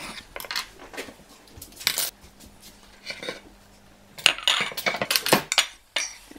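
A fork mashes banana and kiwi together in a bowl, making irregular metallic scrapes and clinks against the dish. The sounds come in bursts with a busier cluster in the second half.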